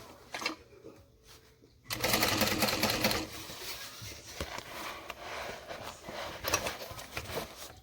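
A sewing machine stitches a bag, a quiet brief run at first, then loud fast steady mechanical chattering close by that continues with slight changes in speed.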